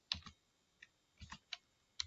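Keystrokes on a computer keyboard, a handful of quiet separate clicks in an irregular rhythm with pauses between them, close and soft against near silence.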